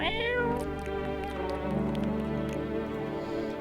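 A cat meows in a video game after being fed canned food, one drawn-out meow followed by a steady tonal game music bed, loud and close with no talking.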